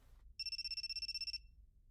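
A cell phone in the video game You and Me and Her rings with one short burst of rapid electronic trilling tones, clear but fairly quiet, with no voices.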